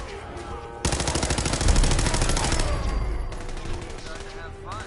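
Rapid automatic gunfire from a gun hip-fired in the video game Fallout 4 bursts in loud and close, a dense stream of shots lasting a few seconds, then tapering into scattered trailing noise.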